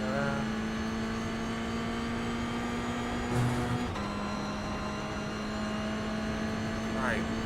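A Toyota GR86 race car in iRacing at Virginia International Raceway South, its engine holding a steady, loud drone that shifts pitch as it accelerates out of a corner, with a voice talking over it throughout.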